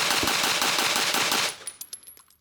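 Rapid burst of gunfire from a firearm during shooting practice, a dense continuous run of sharp loud shots for about a second and a half, then a few spaced trailing shots and echoes fading out.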